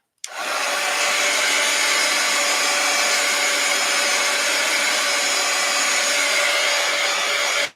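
A heat dryer blows onto a painted journal page in one continuous, loud, steady whir that starts abruptly and runs for several seconds before cutting off, with no speech.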